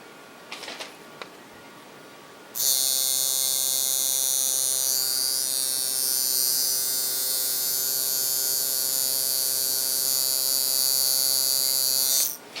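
A tattoo machine running for shading kicks in abruptly and buzzes in a steady, loud, even drone for about ten seconds, close by, with no voices, then stops.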